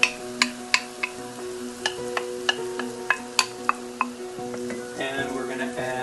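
Crushed tomatoes go into a pot and a spoon stirs them, with sharp clinks of metal against the pot at irregular intervals over a faint hum, then a soft wet squelch near the end.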